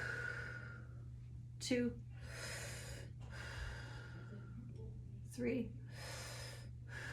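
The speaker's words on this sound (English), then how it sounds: "breathe in through the mouth, out through the mouth" During an exercise class, an instructor leads deep breathing through the mouth, with long audible exhales and sharp, raspy inhales alternating over a steady low hum, and a voice briefly counting.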